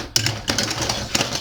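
Quick rasping strokes of a jeweler's saw cutting through metal held in a tweezers-style holder at a goldsmith's bench, several short scratchy bursts close by with brief pauses between them.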